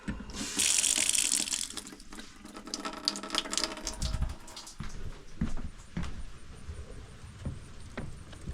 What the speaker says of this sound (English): Right now I'm just letting the water pressure off